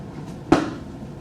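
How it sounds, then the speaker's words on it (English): A single hard knock lands on a door in a quiet room, one short, close thud with a faint softer tap just before it. "The sound of a knock."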